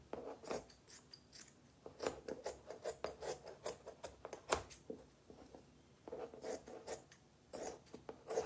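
Deco mesh being cut into strips with scissors for a scarecrow wreath, a run of crisp, close snipping and rustling strokes in irregular bursts, with brief pauses between cuts and no talking.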